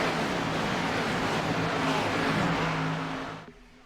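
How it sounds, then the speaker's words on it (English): Race cars at a BRR Cup event in Michigan roar around the track together, a dense continuous engine drone with shifting tones that holds loud for about three seconds before fading out. "Several cars making quick work of the field here tonight"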